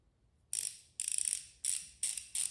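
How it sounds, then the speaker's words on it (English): Ratcheting mechanism of a 72-tooth ratchet wrench, five short bursts of rapid bright clicking separated by brief pauses, close and crisp with no talk. "You can hear hear for yourself the difference between the ratcheting mechanism between something like this, the 90 tooth"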